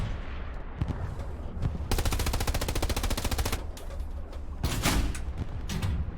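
Battlefield gunfire in the World War II game Hell Let Loose: a long, rapid machine-gun burst dominates the middle, with scattered single shots before and further bursts afterward over a rumbling combat background.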